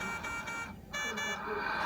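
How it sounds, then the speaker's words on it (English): Avea ventilator alarm sounding after the ventilator is unplugged, a steady electronic tone pattern, loud and close, interrupted by a brief gap and then resuming with a person speaking over it. "if you want to check and make sure they're working, let's just unplug our ventilator"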